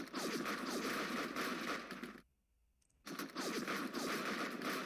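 Gunfire sound effect from a Nationalist Spain hex wargame: a dense, loud burst of crackling shots for about two seconds, a short near-silent pause, then a second sustained volley, with no voices.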